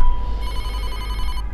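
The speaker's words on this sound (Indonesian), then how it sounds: "telepon Mas Wahyu ini tak henti-hentinya berdering" A telephone rings loudly and close with a steady, bright electronic tone over a heavy, rumbling background.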